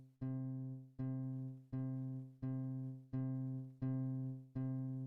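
Sampled C3 note struck softly at low velocity, repeated seven times in an even rhythm, each a quiet tone that decays before the next strike, faint and alone.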